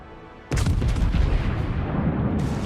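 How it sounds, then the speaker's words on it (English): Battleship main and secondary guns firing in World of Warships aboard the Friedrich der Grosse: a sudden heavy boom breaks out of a low rumble, followed by a dense, sustained barrage of overlapping blasts and rolling thunder that stays loud throughout. "secondaries away, main guns away"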